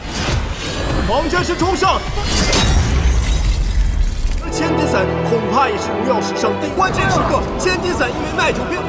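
A weapon shatters mid-match in an animated series, a loud crashing break with bright scattering debris, set among dense music and effects with voices in the mix.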